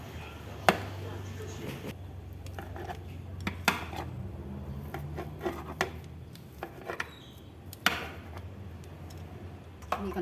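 A knife chops through steamed ikan lajang (pindang fish) on a board, sharp separate knocks at an uneven pace, close and moderately loud, with low kitchen hum beneath.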